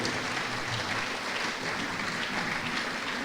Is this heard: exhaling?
no